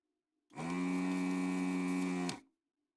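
A single sustained cow moo lasting about two seconds, steady, tonal and clear against silence, with an abrupt start and end like a played sound effect.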